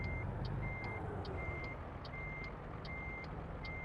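A Peterbilt 567 truck in American Truck Simulator backs up a trailer, its reversing alarm sounding about eight evenly spaced high beeps over a low steady engine rumble, with no talking.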